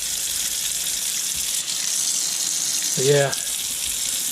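Water rushes steadily out of a clogged sink pipe in a shed, a continuous hissing gush, close and loud throughout, with a brief spoken phrase near the end.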